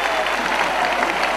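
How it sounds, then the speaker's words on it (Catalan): A crowd at a castellers human tower display in Vilafranca breaks into sustained applause and ovation, a dense, loud wash of clapping throughout. "El Marc que reclama l'ovació del públic."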